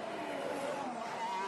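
Formula 1 car at the Monaco Grand Prix braking hard, a brief high engine whine sliding down in pitch as it decelerates, heard faintly over a broad noisy wash.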